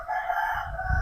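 A rooster crows once, a sustained, moderately loud, slightly distant call that fills the whole moment, with a faint low rumble underneath.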